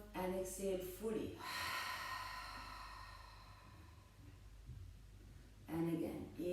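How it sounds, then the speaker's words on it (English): A long, deep exhale through an open mouth during a Kundalini yoga warm-up, a soft breathy rush lasting a few seconds between bursts of spoken instruction. "Open the mouth and exhale fully."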